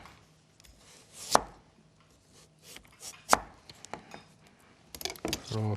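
A knife cuts thin slices of pork jowl on a cutting board: a few sharp knocks of the blade against the board between softer scraping strokes, recorded close in a kitchen.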